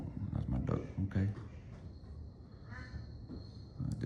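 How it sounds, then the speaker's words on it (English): A duck quacks a few times close by, its calls mixed in with someone talking over steady room noise. "that's my duck"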